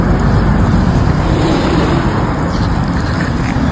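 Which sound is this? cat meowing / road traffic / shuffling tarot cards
road traffic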